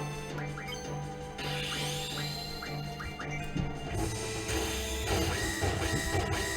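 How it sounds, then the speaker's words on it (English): Protect spell effect from Final Fantasy VIII (Remaster) gameplay: a shimmering, rising magical cue over steady game music and battle sounds, swelling louder in the last few seconds. "The protect sound effect."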